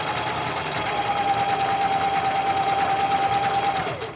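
Sewing machine stitching steadily at close range, running continuously for about four seconds while sewing swimwear and slowing to a stop at the end, with no talking.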